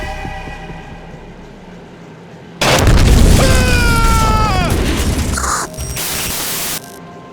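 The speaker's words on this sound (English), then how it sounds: "Colonel, any damage report on the explosion?" An explosion in a Metal Gear Solid 2 cutscene breaks a low hum with a sudden loud roaring blast that rumbles for several seconds, with falling whine-like tones layered in, then cuts off abruptly.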